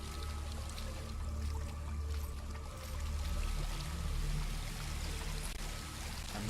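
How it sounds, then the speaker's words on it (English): Water from a stream in the game Hellblade: Senua's Sacrifice, rushing and pouring steadily as a dense, continuous wash with no gaps, moderately loud and unbroken throughout. "I'm reaching the end of the stream."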